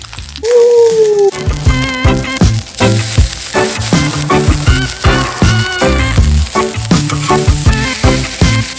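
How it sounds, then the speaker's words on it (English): A burger fries on a Blackstone griddle, loud close sizzling with repeated scraping and clacking of a spatula, opening with a brief rising whine before the busy cooking noise takes over. "Blackstone burger, freshly fried up, middle of the night run"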